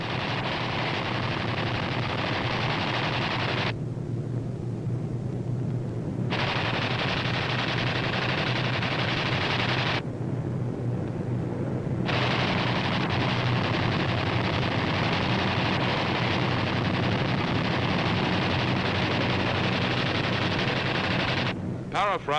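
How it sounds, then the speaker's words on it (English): Machine gun fire from WWII B-25 bombers strafing a Japanese-held airfield at low level: a loud, dense, continuous rattling roar that breaks off twice for a few seconds and then resumes. "These B-25s are carrying out low-level strafing operations against Jap surface vessels on a Jap-held airfield"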